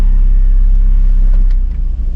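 A Mazda Miata fitted with a Hard Dog roll bar idles while backing out, a loud, steady low engine rumble heard from inside the car, wavering slightly toward the end.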